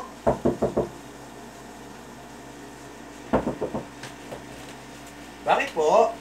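Knocking on a door in a Filipino comedy sketch: two quick bursts of three to four sharp raps, then a pause and voices answering near the end.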